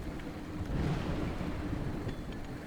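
Thunder from a lightning strike in the video game A Juggler's Tale, a steady low rumble with rain-like wash that swells slightly near the middle and holds at moderate level throughout, with no talk.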